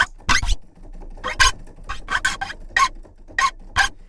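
Sampled guitar string squeaks from the MegaMagic Guitars V4 virtual instrument, about a dozen short, bright fret-slide squeaks in irregular succession, some doubled, fairly loud and alone.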